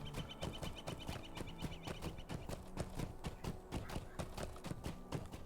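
Horse hooves clip-clop at a steady trotting rhythm while riding in The Lord of the Rings Online, crisp evenly spaced hoof strikes continuing throughout at low volume.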